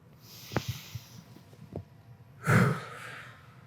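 A group breathes through a guided breathing exercise: a few soft, sharp sniffs and breaths early on, then a louder, fuller collective exhale near the end, faint and close without any talking.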